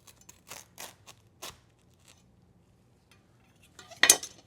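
A knife cutting into a crispy French taco, with a few soft crunches and scrapes early on, quiet pauses, then one sharp loud crackling crunch near the end.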